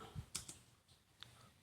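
Several quick, faint keystrokes on a computer keyboard, a short irregular burst of light clicks heard close up in a quiet room.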